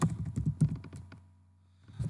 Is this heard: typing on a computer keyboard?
yes